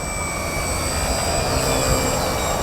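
Steady, loud drone of a model airplane engine holding one even pitch throughout an inverted flat turn steered on rudder alone, with no voices.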